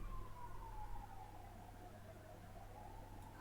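An ambulance siren wails from outside, a single slow, falling and rising tone heard distantly over a steady hum of traffic and room noise, with no speech.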